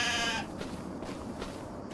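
A goat in the Farming Simulator 25 game gives a single loud, wavering bleat lasting about half a second, then fades into a quiet background hum.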